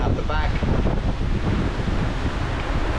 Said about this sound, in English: we're surfing down some of the waves at 14 knots in about 30 to 35 knots of wind, big long waves